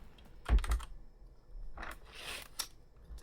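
A few keyboard keys clack close by for an Alt F4 shortcut, a quick double press followed by a softer burst of clicks and rustle, faint and with no talking.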